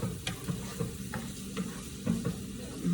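Fresh mushrooms and vegetables sauté in a pan with a soft, steady sizzle and occasional stirring scrapes, fairly quiet and without speech.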